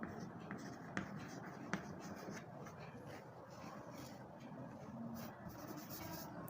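Chalk scratches and taps across a blackboard during a maths lesson, with a few sharp knocks of the stick striking the board among softer strokes, under a teacher's speech.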